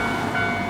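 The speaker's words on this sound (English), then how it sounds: "I love when trains go by" A train passes in Tokyo, a brief loud rumbling roar with a faint high whine, close by.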